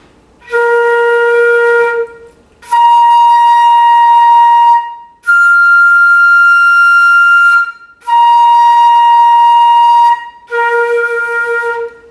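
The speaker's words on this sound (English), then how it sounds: "this is a B flat, and then I'm going to overblow it twice" A flute holds five long tones on a B flat fingering overblown twice, the pitch jumping between overtones, each note clear and loud with short breaths between.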